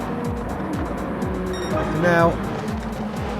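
Race cars at Brands Hatch in a racing video game: a steady engine drone with rhythmic gear and rev sweeps, one car's pitch rising briefly as it closes in, under a commentator's voice.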